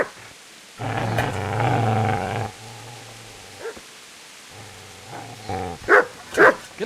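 A dog in the video game Kingdom Come: Deliverance barks and growls: a long, rough growling bark, then a lower snarl, then several sharp, loud barks toward the end.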